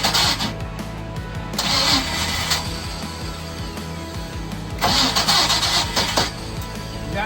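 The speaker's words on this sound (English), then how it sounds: "You gotta give it a chance to crank." A 305 yacht engine with water in it cranks over repeatedly in bursts without catching, the starter turning loud and close against a steady mechanical hum, with short pauses between attempts.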